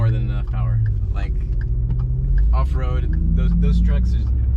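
A Ford Raptor truck engine rumbles low and steady while driving off-road, close and constant beneath ongoing talk.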